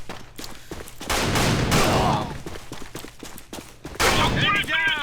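Rapid bursts of Keltec RFB rifle fire in a video game, loud automatic strings of shots with short gaps, a long sustained volley in the middle and another burst near the end with ringing, metallic tails.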